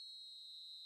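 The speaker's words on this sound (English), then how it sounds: "The whistle's gone, and that's it for the first half" A referee's whistle for half-time in the eFootball 2026 video game sounds as one steady, shrill, unbroken tone lasting just under a second, fairly faint and heard alone.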